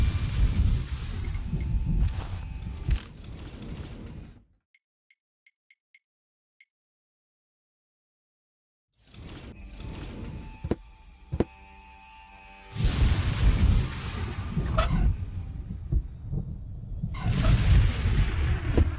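Thunder and lightning in the Deponia video game: heavy rumbling booms with sharp cracks, a few faint ticks in a silent gap, then renewed loud crashing strikes, close and powerful, no voices.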